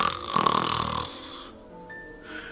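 Human voice imitating an old lady snoring, one drawn-out rasping snore followed by a quieter wheezy tail, close and alone.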